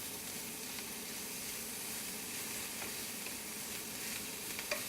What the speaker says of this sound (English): Add the bacon and we're going to allow that to cook and brown slightly.